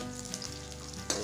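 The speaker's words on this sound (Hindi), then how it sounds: "गोभी तल चुका है लगभग।" Cauliflower frying in a pan at home, a steady soft sizzle with faint crackles throughout, quiet and close, no talking.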